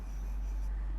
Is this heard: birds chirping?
no